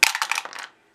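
Dice rolling and clattering on a table in the Memoir '44 board game, a quick series of bright rattling clicks over about half a second before settling into silence.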